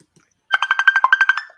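A phone rings with a quick burst of about a dozen bright, rapid electronic pulses lasting around one second, loud and close after brief silence, then fading out.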